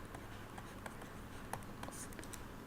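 Pen scratching across paper during a lecture, faint quick strokes and taps in an irregular rhythm over a quiet room hum, without speech.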